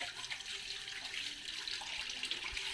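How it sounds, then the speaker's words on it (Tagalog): Tap water runs steadily into a sink as hands are washed, a continuous close hiss and splash with no talk, in a Filipino home. "Lasan ko muna yung kamay ko kaya may nahawakan pala akong sabon."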